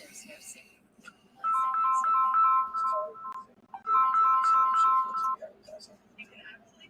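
A phone ringtone plays two bright melodic bursts in a row, clear and fairly close, with faint voices and room sounds around it.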